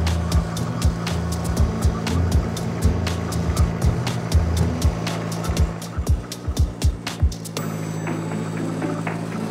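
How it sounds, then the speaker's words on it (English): A tractor pulling a borrowed tiller that is too narrow for it on a homestead field: steady engine drone with a string of sharp clanks and thumps, loud and close, ending in a shift to a smoother hum. "I'm using a borrowed tiller that's really not wide enough for the tractor that I'm using, but it still works"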